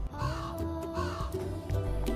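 Crow cawing, several harsh repeated caws in an uneven rhythm, fairly close and loud against a steady musical background.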